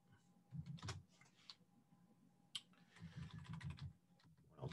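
Quick bursts of typing on a computer keyboard while Python code is entered, soft close clacks in short clusters separated by brief pauses, with no talking.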